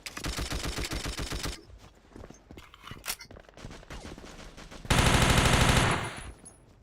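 An MP5 submachine gun in the video game Battlefield fires rapid automatic bursts, with a long stream at the start, scattered shots and footsteps in the middle, then another dense sustained burst near the end.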